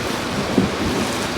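Rain drums steadily on a metal garage during a thunderstorm, with a low rumble of thunder swelling briefly in the middle, a dense, even wash of noise.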